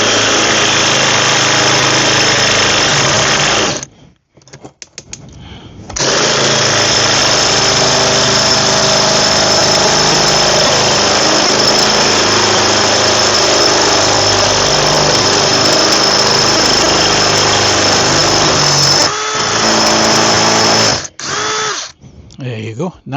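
A spear drill grinds steadily through a porcelain pot in two long, loud, harsh runs of whining buzz, separated by short pauses and ending in brief final bursts.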